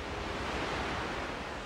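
Ocean waves on a cold coast in Chile, a steady broad wash of surf with wind noise, continuous and even with no breaks, heard alone with nobody talking.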